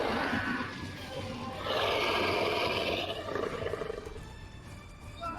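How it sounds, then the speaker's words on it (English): A large red dragon roars in a tabletop fantasy game, a long rumbling, growling roar that swells and fades over several seconds, loud and close. "You hear the roars of a dragon"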